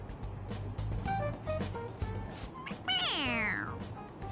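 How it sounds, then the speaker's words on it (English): A toy cat meows several times in short bursts when its head is pressed, then lets out a longer, drawn-out meow, with steady low background rumble, in Persona 5 Royal. "It meows when you press on its head."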